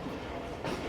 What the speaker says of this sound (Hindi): ट्रेन हमारी फाइनली निकल रही है 1:10 पर मेहरापुर रेलवे स्टेशन